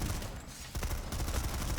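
Burst gunfire from a weapon in the video game Planetside 2, a steady run of dense, loud shots with a brief dip near the start, then continuous rapid reports with no talking.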